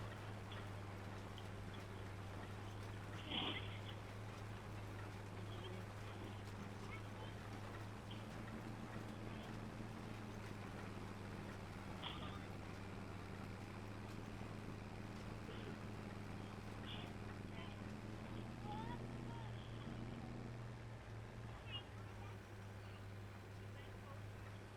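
A farm tractor with a sprayer drives slowly across a field in Farming Simulator 25, a steady low engine drone holding throughout with a slight shift in pitch toward the end, under a voice.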